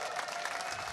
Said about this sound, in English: you have a whole bunch of people here just cheering